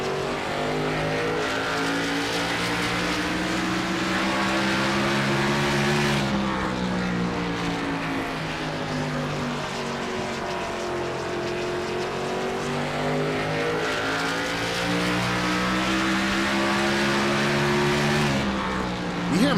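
An Xfinity Series race car's engine is heard from a roof-mounted camera, loud and close, revving high. The pitch drops as the car brakes into the corner, then climbs again on the throttle, and the cycle repeats lap after lap.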